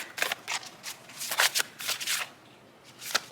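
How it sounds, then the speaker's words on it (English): Tarot cards riffled and shuffled by hand for a pick-a-card reading, a run of quick crisp papery bursts close up with short pauses between them. "So now we're gonna pull some final advice cards."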